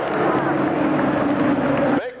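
A white 70 tractor making a run at a two-wheel-drive tractor pull, its engine roaring loud and steady, close to the microphone, before dropping off sharply at the end.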